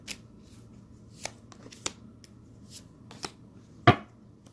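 Tarot cards being shuffled and laid out: a run of crisp, close flicks and snaps of card stock, irregularly spaced, ending in one louder riffling slap, with no talking.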